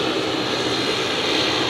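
A Dash 8 turboprop at Sydney Airport gives a loud, even engine roar that holds steady throughout, close by with no talk.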